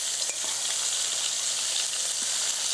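Thick cut bacon fries in a pan with a steady, close sizzle and crackle throughout, small pops breaking through the continuous hiss.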